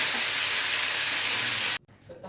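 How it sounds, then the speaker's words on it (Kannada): Curry leaves and dried Byadgi chillies frying in hot oil, a loud, close, crackling sizzle that holds steady for almost two seconds, then cuts out abruptly and leaves a faint murmur of background noise. "ಸ್ವಲ್ಪ ಕರ್ಬೇವಿನ ಸೊಪ್ಪು, ಒಣಗಿದ ಮೆಣಸಿನ್ಕಾಯಿ, ಬ್ಯಾಡಗಿ ಮೆಣಸಿನ್ಕಾಯಿ ಕಲರ್ಗೆ ಇಷ್ಟು ಹಾಕಿ ಫ್ರೈ ಮಾಡ್ಕೊತೀನಿ"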